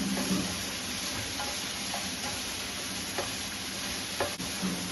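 Sauce being stirred in a frying pan in an Indian kitchen in Kochi, with continuous close sizzling and frying and faint scrapes of the utensil throughout.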